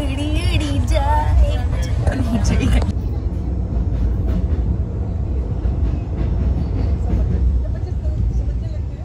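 A train rolls along the rails, heard from inside a carriage: a loud steady rumble with rhythmic clatter. Voices and music are heard over it during the first few seconds, then the rumble carries on alone.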